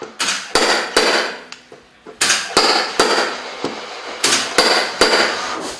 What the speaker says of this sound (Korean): 용접기를 이용해 들어간 부분을 반복적으로 일일이 당겨야 하기 때문에 손이 참 많이 갑니다.